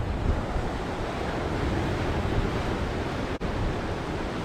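Surf washing steadily onto a secluded hideaway beach, a continuous broad wash of breaking waves mixed with wind noise on the microphone, with one brief dropout near the end.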